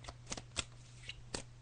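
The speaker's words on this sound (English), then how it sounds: "So I'm just shuffling the cards now" Tarot cards being shuffled by hand, a few soft riffling bursts spaced irregularly, close and quiet over faint background hum.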